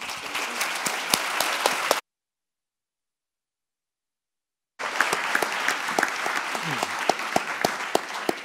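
An audience applauds in a lecture hall as a professor is welcomed, with steady, dense clapping that cuts off into silence midway and then resumes.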